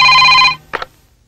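A telephone rings loudly with an incoming call, a bright, steady electronic tone that cuts off, followed by a short double blip before silence.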